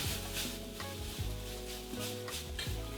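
Green papaya chutney stirred in hot oil, a continuous close sizzle and frying crackle with scraping stir strokes, overlaid by music carrying a steady tonal backing throughout.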